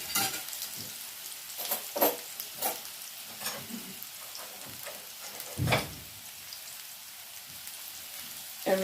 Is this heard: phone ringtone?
no